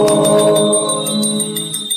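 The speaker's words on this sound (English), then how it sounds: "please ring the bell as you do so" Small hand bell rung during a lamp offering ritual, repeated rapid strikes leaving a sustained bright ringing tone that blurs into a steady shimmer, close and loud.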